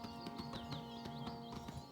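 Horse hooves clip-clop in a steady, quick rhythm while riding across rough terrain in the video game Oblivion, close and fairly loud over a constant low hum of background game sound.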